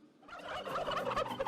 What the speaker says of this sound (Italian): con i tacchini che ci fanno sempre compagnia